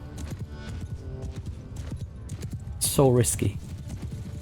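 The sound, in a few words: cavalry horses charging in video game Mount & Blade II: Bannerlord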